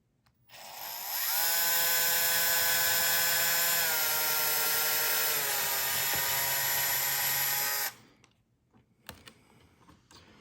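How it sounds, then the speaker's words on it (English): Power drill boring a small pilot hole, a loud steady motor whine that holds for about six seconds then spins down and stops, followed by light clicks and handling noises. "Putting a little pilot hole in."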